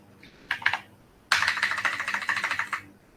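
Quick bursts of computer keyboard typing while entering coordinates in circuit board design software, a short cluster of keystrokes followed by a longer, steady run of close, crisp clicks.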